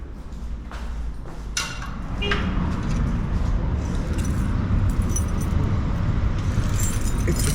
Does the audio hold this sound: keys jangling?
yes